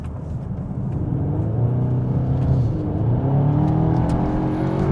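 A Cupra Terramar with all-wheel drive accelerates on a wet road, its engine giving a steady, loud, rising drone with rumbling low end and a faint hiss of tyres on the damp surface throughout.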